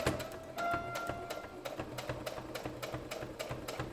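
A sewing machine runs a straight stitch in a steady, rapid mechanical rhythm, close and continuous throughout with no speech.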